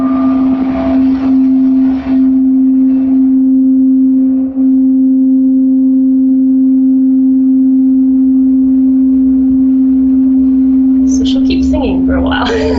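A sustained tone at a C note from an instrument, played live; a steady, loud pitched hum holds unbroken for about twelve seconds, with brief chirpy sounds near the end.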